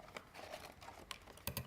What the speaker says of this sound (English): You snip off just, I know, just snip off one side.